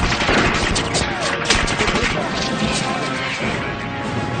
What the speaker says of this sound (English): One of my recollections was the bullets flying off the bridge's steel girders.